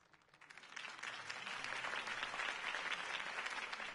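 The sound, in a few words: applause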